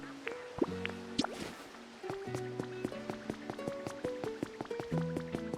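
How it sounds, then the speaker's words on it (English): Pokémon Makuita drinking fresh water in the video game Pokopia, heard as quick bright dripping and splashing blips over a soft, cutesy musical background, steady and close throughout. "Makuita is over here drinking my fresh water"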